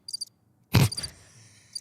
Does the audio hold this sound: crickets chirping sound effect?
yes